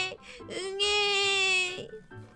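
A baby's cry voiced by a storyteller imitating an infant, a short, rising wail that holds a steady pitch for about a second before breaking off, heard up close.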